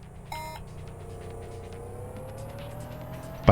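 Cars racing in the Saturn game The Need for Speed, a Lamborghini against an old Mazda: a steady engine drone with a rising pitch as one car accelerates, a short electronic beep near the start and a sharp burst at the end.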